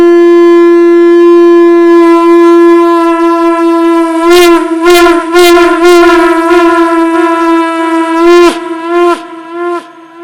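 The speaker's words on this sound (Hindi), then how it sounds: "एक बार और शंख बजा दें।" Conch shell (shankh) blown during a Satyanarayan puja, a loud sustained tone held for about ten seconds, with brief clattering percussive bursts over the middle and near the end.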